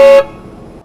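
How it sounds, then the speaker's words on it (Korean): A ready-mix concrete truck's horn blasts once, loud and close, then cuts off abruptly, leaving low road rumble behind. "계속 빵빵거리거든요"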